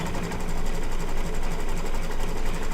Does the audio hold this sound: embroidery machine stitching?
yes